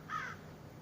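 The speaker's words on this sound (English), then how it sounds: "the fucking seagulls and crows were just going at each other." A single crow caws once, brief and fairly distant, outdoors during a scuffle between crows and seagulls, with a low background hum and no voices.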